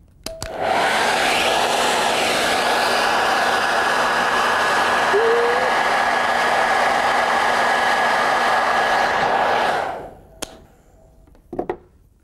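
A hair dryer blows for about ten seconds in a loud, steady, close whoosh with a faint tonal whine, then switches off, leaving a few small knocks and clicks.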